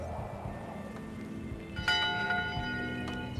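A ship's bell rings aboard a pirate ship in the 2022 video game Return to Monkey Island, one clear metallic strike that sounds midway and rings out over a quiet background.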